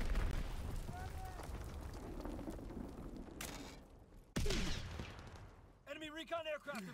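Explosions and gunfire in the Call of Duty: WW2 beta play over a dense, continuous battlefield rumble, with a sudden loud blast partway through, and a voice speaks near the end.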